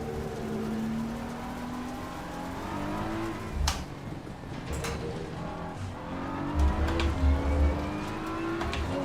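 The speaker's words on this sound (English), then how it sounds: "I'll let this Porsche past" A Porsche race car in a sim racing game drives close by, its engine a steady rising and falling whine through gear changes, with a few sharp clicks and thumps, and no talk.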